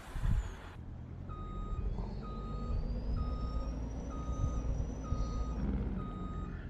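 Steady reversing beeps repeat in a regular rhythm from a truck being parked in a farming video game, over a constant low engine rumble with a rising whine, close and loud with no talking.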